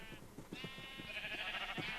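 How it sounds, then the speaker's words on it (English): Several sheep bleat in Minecraft, wavering calls repeating over a couple of seconds, fairly close and moderately loud, alone with no talk. "I kind of bred a lot of sheep."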